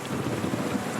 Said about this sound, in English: This is more than a light rain.